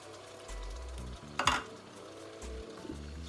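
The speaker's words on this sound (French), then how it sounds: "Il faut frire quelques minutes, 5 minutes." Ingredients for smoked-fish rice with soumbala fry in a pot with a steady close sizzle, broken by a sharp scraping stir in the middle and occasional low clunks.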